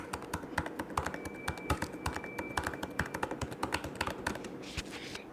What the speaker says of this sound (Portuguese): é o barulho do teclado